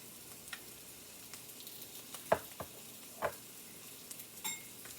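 Mushrooms fry in butter in a skillet with a faint steady sizzle, broken by a few sharp clicks and scrapes of stirring, no talking.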